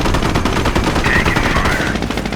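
Sustained gunfire from the World War II strategy game Company of Heroes, a dense rattling barrage that runs without a break, loud and close, with no voices.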